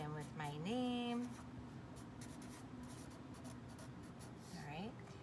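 A marker or pencil writes a name on black construction paper, a soft scratching and rubbing heard beneath a person's talking voice.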